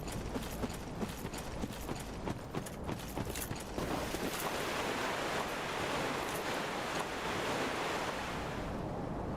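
Rolling water waves in the video game Dark Souls III: a continuous hissing wash of surf, with faint clicking steps over it at first that fade into a broader, steady rush.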